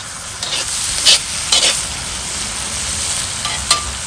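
Vegetables coated in oil sizzle steadily in a Lodge cast-iron wok over a Weber charcoal grill, with a loud continuous frying hiss and a few scraping bursts as they are stirred.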